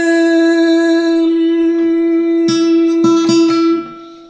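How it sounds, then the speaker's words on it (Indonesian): A guitar sounds a sustained E note during tuning, one clear ringing tone with rich overtones, followed by a few short plucked notes and strums near the end before it fades. "Saya mainkan dulu nada E-nya."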